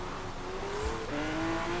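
Lamborghini Aventador J race car in Forza Horizon 4 cruising with a steady engine drone, revs climbing slightly after a brief shift, continuous and moderately loud.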